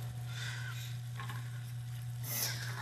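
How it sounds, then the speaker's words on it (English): Cumin and turmeric being stirred into a hot pan for a vegan Caesar salad, a steady close sizzle with soft scraping swells, over a constant low electrical hum. "Let me stir that in here"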